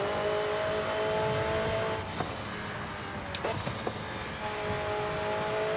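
A Ford Transit van engine drones steadily while driving in the racing game Forza, a constant mid-level hum with a few faint clicks and bumps, no talk over it.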